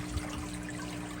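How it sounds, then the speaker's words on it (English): Water runs steadily into aquarium reserve tanks, a soft continuous trickle and splash with a faint hum underneath, no voices. "I'm filling up those reserve tanks with water"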